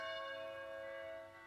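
Church bells in a film soundtrack leitmotif from Marcelino pan y vino, a sustained ringing tone with bright, lingering overtones that slowly fade, heard alone without voices.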